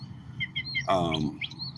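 Red cardinal birds chirp outdoors in a few short, clear tweets around a brief louder rustle or voice-like burst, nearby and moderately loud.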